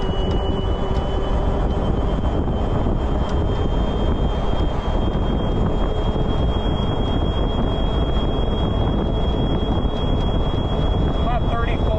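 A 2004 Club Car DS golf cart running on a lithium battery drives along outdoors at about 35 mph, giving a steady, continuous whir with heavy wind rush and a faint high tone throughout.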